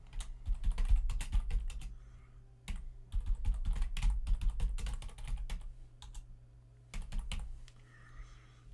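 Someone types on a computer keyboard in quick irregular bursts of close, crisp key clicks, with short pauses between the runs and no talk.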